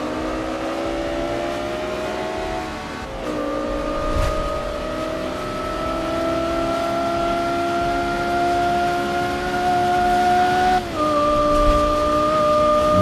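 A car engine in the racing game Forza 5 drones loudly and steadily, its pitch climbing through each gear with sharp drops at the shifts.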